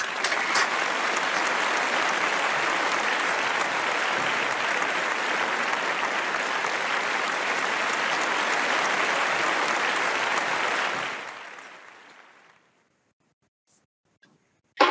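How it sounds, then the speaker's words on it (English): An audience at a Chinese New Year celebration claps in steady, dense applause for about eleven seconds, then it thins out and fades to silence. "perhaps you will all join me in sending our thanks to him in the traditional way of applause"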